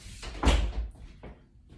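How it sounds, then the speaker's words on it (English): A door being closed indoors, a brief rustle and then a solid thud at close range, followed by a softer settling knock. "let me close the door."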